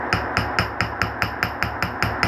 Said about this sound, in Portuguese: Eu tenho um martelo pequeno, mas vocês podem utilizar o martelo grande também